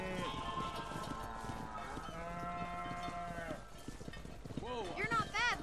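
Cattle herd being driven in Red Dead Redemption, with livestock lowing and mooing amid the herd's movement and voices talking over it, moderately near.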